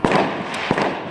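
Fireworks bang in the distance at night, two or three muffled cracking bursts in quick succession, with drumming elsewhere nearby.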